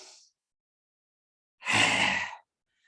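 A single forceful yoga lion's breath exhale, harsh and rasping in the throat with the tongue out, close and loud for under a second after a faint earlier breath.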